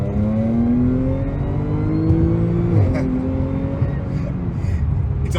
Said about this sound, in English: Do another acceleration pull